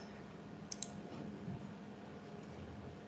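A computer mouse clicking, heard as a few faint, sharp clicks close together near the start, followed by a single softer click over quiet room noise.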